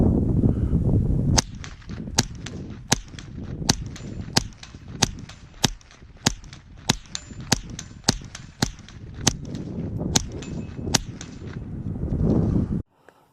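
Repeated gunshots fired at a target with cheap Remington ammunition: about seventeen sharp, loud cracks in a fairly steady rhythm over roughly ten seconds, with rumbling background noise before and after the string of shots.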